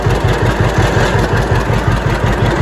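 A John Deere 60 tractor engine idles steadily up close, a loud, even low-pitched chug with a regular pulsing beat and no talk over it.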